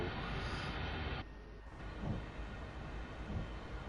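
A train rolling past in the Train Sim World 2 game, a steady broad rumble and rushing noise that holds throughout, with a brief shift partway and faint rail clatter in the background.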